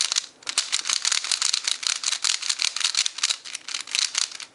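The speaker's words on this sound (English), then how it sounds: "As for turning, the Panchi is very like snappy and clicky." A Dayan Panchi speed cube being turned quickly, producing dense bursts of sharp, snappy clicks and rattles in a fast irregular rhythm, close and loud with no talking.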